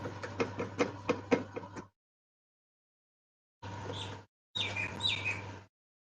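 Short bursts of bird chirps with quick tweets, set off by sharp knocking taps near the start and broken by a long stretch of silence.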